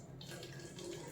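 Water pours steadily from a bottle into a glass, a soft continuous trickle heard close and fairly quiet throughout the short stretch.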